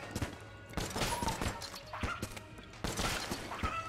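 Gunfire from the video game Enter the Gungeon crackles in rapid, dense bursts of shots, fairly quiet, with short pauses between volleys.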